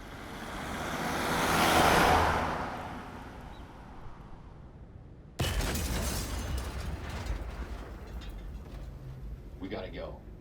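A car surges in acceleration, a swelling rush of engine noise that peaks and fades, then gives way abruptly to a loud, steady roar, with a voice speaking over it.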